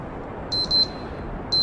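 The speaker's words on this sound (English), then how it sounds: "Okay, that's the timer." A game timer in Kerbal Space Program gives short high electronic beeps: a quick double beep, then a single one after a pause, clear over a low steady background hum.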